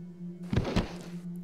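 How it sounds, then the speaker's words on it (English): A flash bomb goes off in the stealth game Thief Gold. It gives two quick, soft thumping bursts over a low steady hum, with no voices. "I'm just gonna use a flash bomb."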